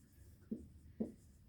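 Chalk or marker writing on a classroom board during a maths lesson, two soft, short taps or strokes about half a second apart, faint and close.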